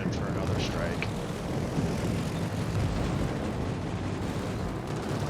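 Carrier aircraft in World of Warships, flown from the FDR carrier, drone steadily as a dense, continuous engine roar with rumbling battle noise mixed in, holding at the same level throughout.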